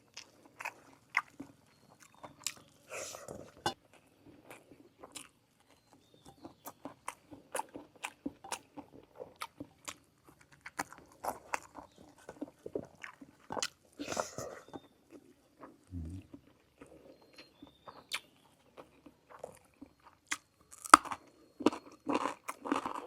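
Close-up crunching bites of crispy fried tilapia come as many sharp, irregular crackles over twenty-odd seconds, with quiet gaps between chews.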